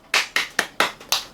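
Five sharp hand claps at a steady, slightly quick rhythm, close and loud, each with a short ring-off, and nobody speaking.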